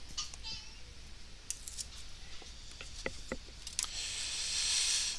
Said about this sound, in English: And take the rest of the tape off here.